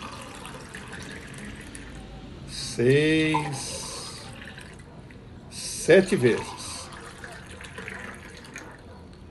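Water poured and splashing into a clay water jug, two short bursts of gurgling, filling sound a few seconds apart, with a voice counting aloud over a steady background hiss.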